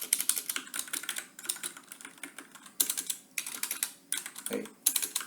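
Rapid clicking of a computer keyboard as C++ code is typed, close and crisp, coming in quick bursts of keystrokes separated by short pauses, with no talking.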